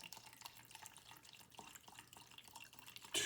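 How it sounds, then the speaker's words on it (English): Mineral spirits are poured out for stock finishing, giving a soft, steady liquid trickle with small splashing drips, close and fairly quiet, ending in a brief louder splash. "And then I take my mineral spirits and pour this out."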